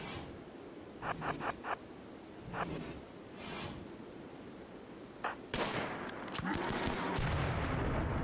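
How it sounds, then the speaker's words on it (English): Gunfire in the video game Rimworld, with quick bursts of sharp, distant-sounding shots, then a denser, louder volley over a rustling background. "Nice shooting."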